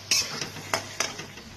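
Marinated chicken goes into a pan of frying spice masala for a Bengali chicken and potato curry, with a few soft scrapes and clinks of a spoon over a faint background sizzle.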